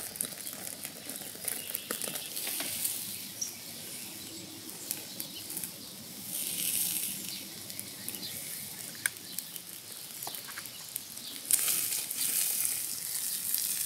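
A thick caveman steak sears directly on glowing charcoal, giving a steady, fairly quiet sizzle scattered with crackles and pops that continues unbroken.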